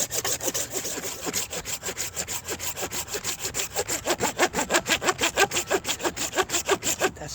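A hand saw cuts through the dense resin-rich wood of a fatwood stump near a branch knot, rhythmic back-and-forth rasping strokes close by that quicken and grow louder as the cut deepens.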